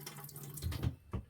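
A man-overboard locator device is dipped into water, giving a short burst of splashing and trickling with a couple of brief sloshes, close and moderately loud.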